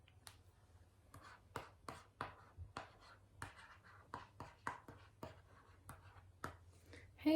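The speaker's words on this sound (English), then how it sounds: "Pull out the pen, write on the area" A pen stylus writing on an LCD drawing tablet makes a series of quick, faint scratchy taps and short strokes, irregular but near-constant, close up in a quiet room.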